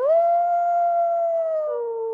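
A single wolf howls in a long, smooth, sustained tone, standing in for an Ice Age dire wolf. The howl holds steady, then drops slightly in pitch near the end, clear and alone against silence.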